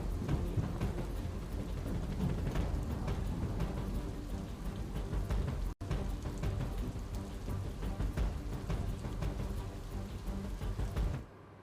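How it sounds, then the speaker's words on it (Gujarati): Continuous rain falls near the Purna River in Navsari, a steady, dense patter with low thunder-like rumbles beneath it. A brief dropout cuts in midway, and the sound fades near the end. "સતત અવિરત વરસાદ વરસતા નદીની જળ સપાટીમાં સતત વધારો નોંધાઈ રહ્યો છે"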